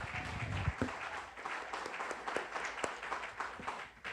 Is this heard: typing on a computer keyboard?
no